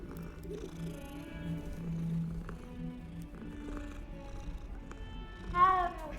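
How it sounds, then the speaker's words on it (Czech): A cat being petted in the video game Hogwarts Legacy purrs softly and steadily, then lets out a short, clear meow near the end. "Minimálně si můžu asi pohodit kočičku."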